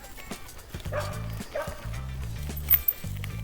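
A dog barks in short repeated bursts on a walking trail, fairly close, while other noises and a passing voice sound faintly in the background.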